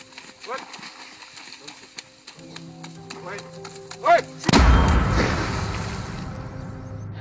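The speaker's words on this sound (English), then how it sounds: "at the last moment, the hunters managed to take a shot and stop the impending hippo" A single heavy gunshot booms as hunters stop a charging hippo in Africa, a sudden loud blast with a long rumbling tail, preceded by someone talking and hoofbeat-like thumps.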